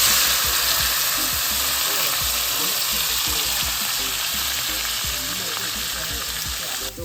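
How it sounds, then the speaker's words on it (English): Saltfish frying in a pan, giving a loud, steady hiss and sizzle throughout with faint stirring and scraping underneath, sounding close and continuous. "lightly fry up the saltfish for a couple minutes"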